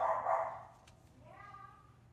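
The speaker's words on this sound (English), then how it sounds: "Dog has a lot to say." Theo, a dog, lets out a short bark followed by a higher whining yip, faint and somewhat distant in a quiet indoor room.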